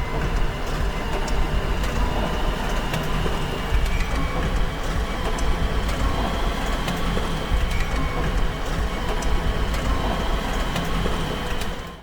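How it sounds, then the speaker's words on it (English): A peanut shelling machine runs steadily in a factory, a loud, dense, continuous mechanical rattle and hum without a break. "Peanuts are carefully put into the shelling machine, leaving clean peanuts ready for the next steps."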